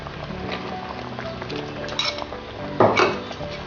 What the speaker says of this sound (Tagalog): Ilalagay ko muna ang okra